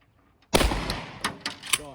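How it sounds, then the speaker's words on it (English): Sharp sudden blast from a Dacsoras shotgun being test-fired, followed by a few quicker cracks and clatters in a short burst, all close and loud. "3 shots, no worries whatsoever out of the Dacsoras"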